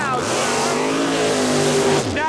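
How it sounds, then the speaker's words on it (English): Supercharged drag racing car in the bleach box revving hard for a burnout, a loud sustained engine roar with rising pitch and tire hiss, close and dominant. "First in the bleach box, ready to burn out."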